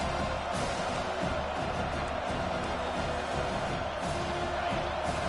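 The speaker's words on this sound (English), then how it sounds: "Decibels rising as the crowd gets behind this defense on 3rd down." A stadium crowd at an American football game roars for the defense on third down, a dense, continuous swell of cheering and noise with no clear break.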